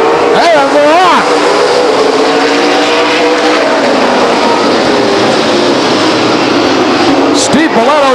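A field of race cars roars away together at the start of a 100-lap race at Stockton 99 Speedway, a loud, dense, sustained wall of engine noise with a voice briefly heard at the beginning and end.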